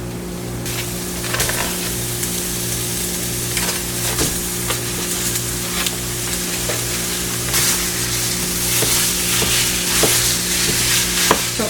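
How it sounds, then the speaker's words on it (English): Italian sausage for pizza topping fries in a pan, a dense continuous sizzle close by, broken by repeated scraping stirs of a utensil against the pan. "now I'm going to go ahead and cook up the Italian sausage for our pizza topping"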